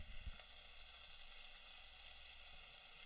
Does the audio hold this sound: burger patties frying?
yes